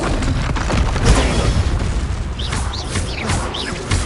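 In the video game Hogwarts Legacy, a Bombarda spell bursts into a loud, rumbling boom that fills the whole stretch, with a dense roar and crackle continuing throughout.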